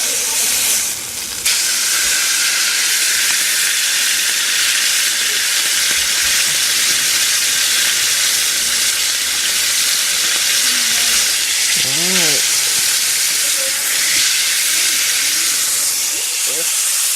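Meat searing in a cast iron pan, the fatty sides pressed down to seal, giving a loud, constant hiss and sizzle throughout, with a brief voice-like tone partway through.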